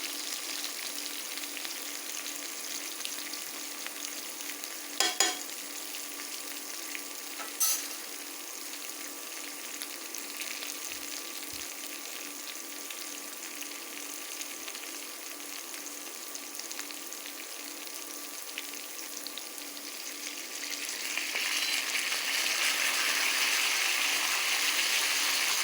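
Potatoes fry in a pan with a steady, close sizzling hiss that grows louder and brighter toward the end, with a couple of faint clinks early on.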